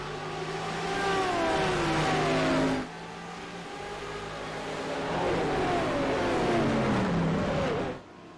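Several sports race cars in iRacing accelerate away at a restart at Mid-Ohio's final corner, engines rising steadily in pitch as they rev through the gears, with a brief dip between shifts before climbing again, loud and close.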